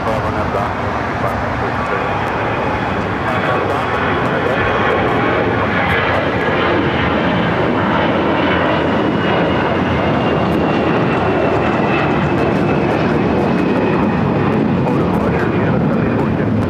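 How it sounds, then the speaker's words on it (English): Jet airliner passing overhead at LAX airport on the south side, a loud, sustained broadband engine roar filling the whole stretch with steady intensity, with faint radio chatter mixed underneath. "Jet coming over here to the south side."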